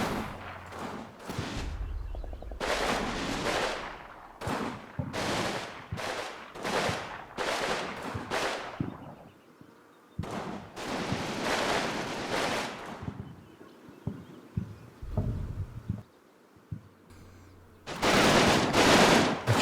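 Repeated bursts of gunfire from a German attack on a building in the wargame Combat Mission, dense volleys of shots with short pauses between, loud and close, with no talk.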